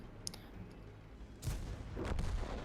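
Tank cannon fire in World of Tanks, with a King Tiger and a T-43 trading rounds: a sharp blast, then a rumbling burst of shots a moment later, mid-distance and fairly loud over a quiet battlefield hum.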